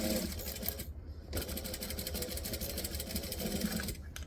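A sewing machine runs in fast rhythmic bursts while stitching a fabric bag seam, with a brief pause and reversal for the back stitch, close and steady.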